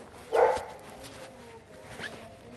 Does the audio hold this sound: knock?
no